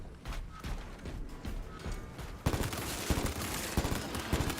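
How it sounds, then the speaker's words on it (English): A heavy plasma gun in the game Space Marine fires in dense rapid bursts that grow louder and harsher halfway through, a continuous crackling volley with no voices. "the only problem with the heavy plasma is it runs out of ammo in like 2 seconds"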